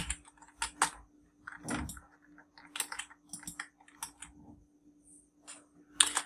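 Typing on a computer keyboard, sharp irregular key clicks in short bursts with pauses between them, close and fairly quiet in a still room.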